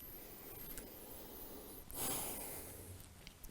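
A single slow, audible breath in and out during a resting yoga pose, soft and close against a quiet room, with no talking.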